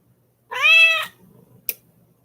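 A cat named Rex gives a single clear, drawn-out meow up close, followed by faint shuffling and a short sharp click.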